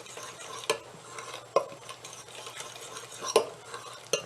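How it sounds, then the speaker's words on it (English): A bread starter mixture is stirred in a bowl with a utensil, soft scraping punctuated by a few sharp clinks against the bowl's side, close and quiet. "I'm going to take a moment here and just stir this together."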